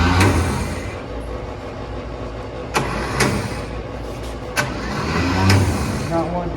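A 1954 Chevrolet 3100 truck, parked since 1978, cranks over with a steady low grinding churn, punctuated by a few sharp clacks, without catching; a voice talks briefly near the end.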